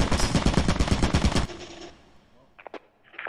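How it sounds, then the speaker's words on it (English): An automated turret in Lethal Company fires a loud, rapid burst of machine-gun shots that cuts off abruptly, then a few faint clicks follow. "There's turrets everywhere. Be careful."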